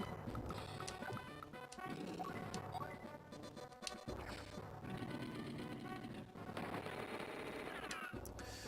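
Artillery shelling mech infantry in the video game Advance Wars 2: Black Hole Rising, heard as rapid, continuous rattling gunfire and crunching impacts with game music, sustained throughout with a couple of short breaks.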